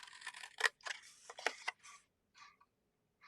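Scissors snipping through paper while trimming away a section for a card project: a quick series of crisp, close cuts in short bursts, then a couple of softer snips after a pause, with no talking.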